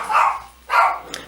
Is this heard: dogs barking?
yes